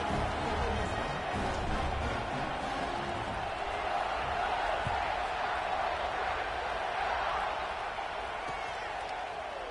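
A big football stadium crowd at an Ohio State vs Oklahoma game murmurs and roars in a steady, dense wash just before kickoff, with an announcer's voice faintly running under it.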